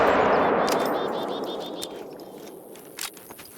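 Rapid gunfire bursts from the hunting game theHunter: Call of the Wild, a loud dense volley at the start that decays into ringing reverb, followed by a few sharper isolated reports and metallic clicks.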